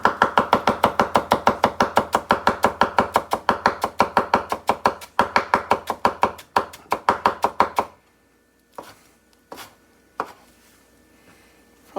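A knife chops rolled cilantro on a cutting board in fast, even strokes, about five per second, close and crisp for roughly eight seconds, then a few scattered knocks in near silence.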